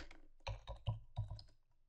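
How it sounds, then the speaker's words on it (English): Someone types a profile name on a computer keyboard in a close, distinct burst of keystrokes, about four or five firm taps with short pauses, alone in an otherwise quiet room. "type your profile name in at the bottom of the screen"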